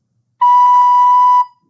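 A single steady recorder note B, fingered with the left thumb and one finger down, sounds clear and pure for about a second, close and loud, with no talking.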